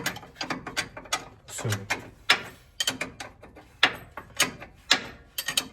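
A ratchet clicks in quick repeated strokes while tightening front air ride suspension parts, close and crisp with irregular bursts of clicking and brief pauses, with a voice briefly speaking.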